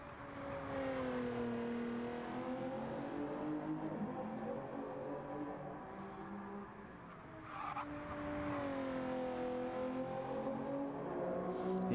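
Race car engine from the Gran Turismo 7 video game on a qualifying lap, a loud continuous whine rising and falling through gear changes, with occasional faint tire squeal.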